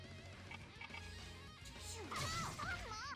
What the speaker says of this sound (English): Notice the grid is now cracked and smashed.